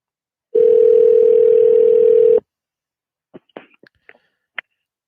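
Telephone tone holds steady for about two seconds, then cuts off, followed by a few faint scattered clicks and soft noises at close range, with no speech.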